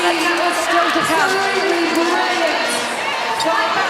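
A large arena crowd roars and cheers loudly and continuously at the end of the third quarter of an Australia versus South Africa netball World Cup semi-final, with whoops rising over a dense wash of noise.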